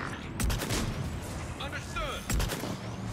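Gunfire in the sci-fi shooter Mass Effect 3 during a finale battle, two loud broadband bursts near the start and again later, with whooshing weapon and creature effects between, mixed with game ambience.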